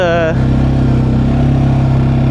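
A dirt bike or ATV engine on an Arctic trail ride in Nunavut, running steadily close by with a droning hum after a brief rise in revs, loud and alone.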